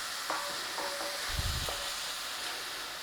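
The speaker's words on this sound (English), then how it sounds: "So it's just a nice little saute on those onions" Onions sauté in a pan for a roasted red pepper and tomato soup, giving a steady, close sizzle with a few light scrapes and taps of a stirring utensil against the pan.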